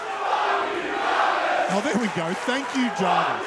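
A wrestling crowd at an MCW Vendetta 2024 event roars and cheers for the wrestler Jarvis, a broad sustained swell of noise, while a commentator speaks over it partway through.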